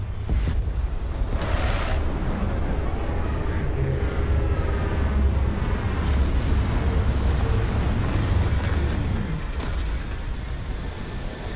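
A spaceship setting down in Starfield, a steady, loud engine roar with a broad rushing hiss, shifting tones and faint whines, continuous throughout with no talk.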